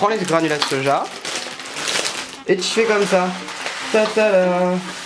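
Rehydrated soy granules fry in oil over a high flame, giving a continuous sizzle and crackle beneath a woman's lively French chatter that nearly covers it.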